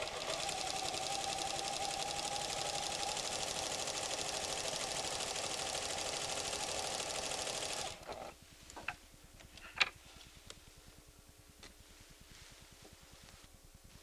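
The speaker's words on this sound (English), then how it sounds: "sew a bit so you can see how it looks on the fabric" A PFAFF creative 7550 sewing machine stitches fabric with a steady, fast mechanical whir that runs loud and continuous for about eight seconds, then stops, leaving faint ticks and clicks.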